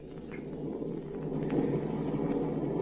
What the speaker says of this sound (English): Lightning was flashing and thunder seemed to rock the heavens as we stopped to make camp.